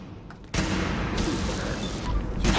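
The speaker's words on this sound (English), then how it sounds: "Spamming hipfire shots." Rapid hipfire shots from a scrap battle rifle modeled on the M1 Garand in Fallout 4 start after a brief quiet lead-in. They merge into a loud, dense, continuous barrage that runs to the end.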